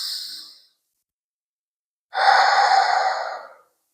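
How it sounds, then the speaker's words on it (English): A deep breath drawn in and let out during a yoga session, an early soft exhale followed by a long, close, steady airy breath of about a second and a half. "We'll take a deep cleansing breath in"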